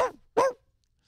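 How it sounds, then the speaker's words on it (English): Two short, sharp dog barks played back through smart home speakers as a motion-triggered deterrent, the second louder and fuller, followed by silence. "You can have dogs barking if there's motion outside the house."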